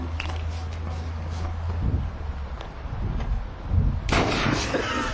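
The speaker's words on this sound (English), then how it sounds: "Now, on to a slightly less glamorous, but no less hilarious weapon, the potato gun." A potato gun firing a potato outdoors, a sharp pop followed by a louder whooshing blast near the end, with wind rumble against the microphone throughout.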